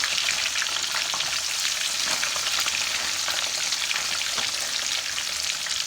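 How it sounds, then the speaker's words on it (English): Frozen french fries bubble and crackle in oil in a cast iron skillet, a steady, dense hiss of frying that carries unbroken and fairly close for several seconds with no talking. "So it's not going to fry as much once I put all the fries in."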